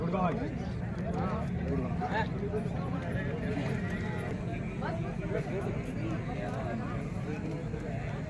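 The horse Singham moves at the Navalgarh animal fair, its hooves making faint clip-clop beats beneath a crowd's steady babble and nearby speech.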